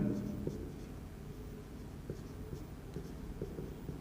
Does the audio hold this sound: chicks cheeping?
no